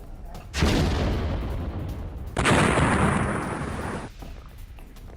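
A Russian T-80BV tank fires in war footage, two massive booming blasts a couple of seconds apart, each a loud, broad roar that lingers and rumbles before fading.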